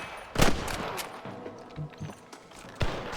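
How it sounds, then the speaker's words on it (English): Gunfire in the video game Red Dead Redemption: a close, sharp volley of shots, with a loud crack near the start, scattered quieter pops and thuds in the middle and another strong shot near the end. "Good shooting, boy."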